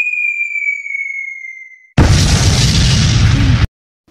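A single loud burst erupts after a sustained whistling tone fades to silence, filling the space with broad noise for under two seconds before cutting off abruptly.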